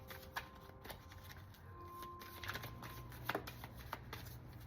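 A brand-new deck of oracle cards is shuffled by hand in a quiet room, with a steady soft riffling and flapping of cards throughout and a few sharper slaps.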